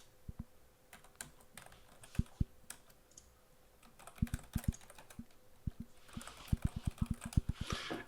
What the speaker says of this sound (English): All right, let me try and type.